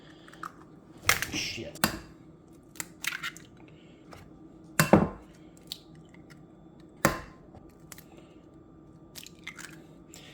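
Eggs cracked one after another into a big pan, giving several sharp, close cracks and crunchy shell snaps spaced a second or two apart, with a brief spoken curse among them.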